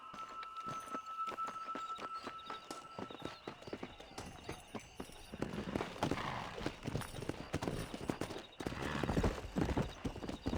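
Horse hooves clip-clop in a quick galloping rhythm during a ride in the video game Red Dead Redemption, with faint background speech and louder bursts of movement partway through.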